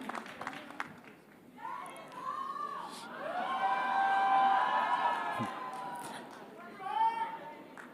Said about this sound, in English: So a big round of applause, ladies and gentlemen, for Yash.